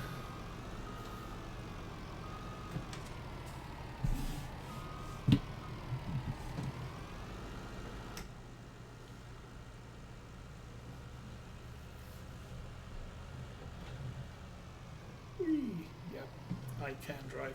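A truck drives at high speed in the video game Farming Simulator 19 on the Lawfolds, Aberdeenshire map, its engine a steady droning hum with a few brief louder bumps and a rising sweep near the end.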